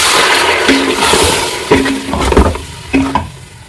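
Tomatoes drop into a hot pan of sizzling meat and are stirred, with loud continuous frying hiss and scraping strokes of a spoon against the pan, several sharp clinks along the way.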